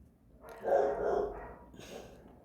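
A single dog gives one short, muffled bark-growl at moderate distance, fairly quiet, with a faint fainter follow-up sound after it.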